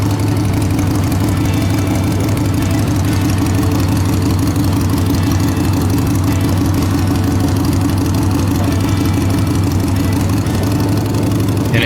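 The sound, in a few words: motorcycle engine idling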